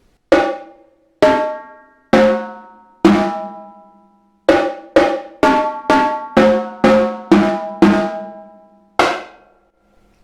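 Tenor drum from a marching percussion set, played with match grip near the rim: about a dozen sharp, ringing pitched strokes, some spaced and some in quick clusters, each decaying cleanly, close and loud with no talk.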